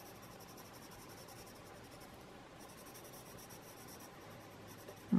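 Colored pencil scratching steadily across paper in a continuous, soft, close rasp of coloring strokes with no pauses, ending in a brief louder knock.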